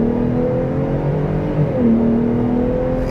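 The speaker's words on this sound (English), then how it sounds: "we'll try one acceleration off the line, 4-wheel drive auto, let it shift, 4 auto, off the line, on the gas" A 2024 Ford F-150 Raptor pulls hard off the line in four-wheel-drive auto, its engine note rising loudly and steadily, dipping briefly at a gear shift before climbing again.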